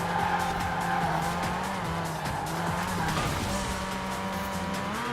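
Forza Horizon 4 race car with a stock engine of over 300 horsepower, its engine droning steadily with shifting pitch while tires squeal and skid almost continuously, loud and close with no talk.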